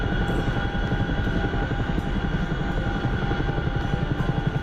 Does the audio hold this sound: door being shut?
no